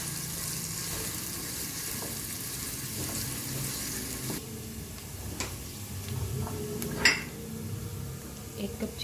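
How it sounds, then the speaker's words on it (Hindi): Cumin and chopped onion sauté lightly in a pan with a soft, steady sizzle, punctuated by a few utensil taps and a sharper clink near the end. "2 चुटकी के बराबर ज़ीरा, 1 प्याली प्याज, इसको हल्का सा सौते कर लेंगे"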